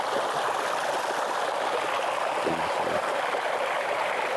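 Water pours steadily from a pipe outlet at an open site near Madinah, a continuous close rushing flow with a brief low thump partway through.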